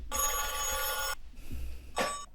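Electronic telephone bell rings loud and close in a long trill, falls quiet, then gives a shorter second burst before cutting off; no voices.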